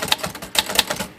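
Typing on a Royal Quiet De Luxe typewriter, a fast, close run of sharp mechanical key strikes with irregular spacing and loud clacks.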